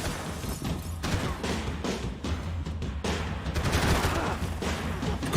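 Rapid gunfire from a weapon in the shooter game Max Payne 3 keeps going for several seconds: repeated sharp shots in dense bursts, loud and close, with no clear speech over it.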